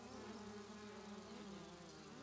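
Gnats buzz around rotten meat in the video game Grounded, a faint continuous insect whine with wavering pitch, swirling steadily with no talk.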